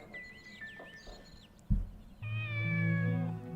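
A cat meows in the video game Shenmue, several plaintive calls: thin early mews, then a longer, louder, drawn-out meow near the end, close and clear over a quiet in-game backdrop.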